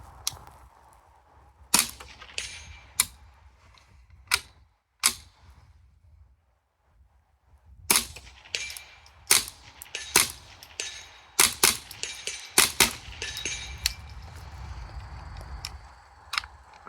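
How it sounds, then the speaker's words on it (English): A Ruger Charger 10/22 pistol fitted with a 9-inch threaded carbon-fiber barrel fires rounds at a steel target 110 yards away: a series of sharp, dry cracks in irregular rhythm, sparse at first and then clustering closer together. "I'm gonna go ahead and throw a few rounds at 110. We'll see what kind of performance this can do on steel"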